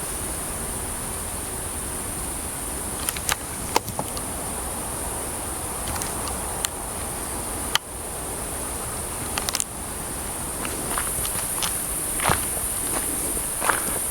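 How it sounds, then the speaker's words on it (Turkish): Footsteps crunch intermittently through a forest at night, scattered soft steps over a constant hiss of insects and crickets, with a few sharper cracks along the way and no voices. "Çok net adım seslerini duyabiliyorum"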